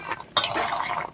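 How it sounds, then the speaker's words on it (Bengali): A spoon stirs and scrapes chotpoti ingredients mixed with lemon peels in a bowl, giving a near, steady clatter that starts after a short pause and continues unbroken. "তো এটাকে ভালো করে মিক্সচার করবো।"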